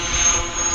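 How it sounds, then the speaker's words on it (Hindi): A helicopter in the video game Granny Chapter Two, its rotor and engine roar loud and steady as it flies, with a thin high whine over the dense rumble. "ये हेलीकॉप्टर उड़ चुका है"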